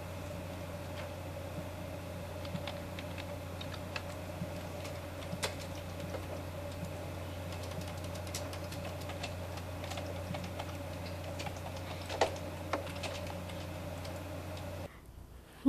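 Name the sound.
typing a name on a computer keyboard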